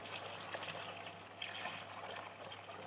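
Grape juice from a wine kit box dispensed into a fermenter, a soft continuous trickling and gurgling flow, steady and close, with no talk.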